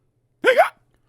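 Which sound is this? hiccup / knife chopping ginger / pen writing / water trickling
hiccup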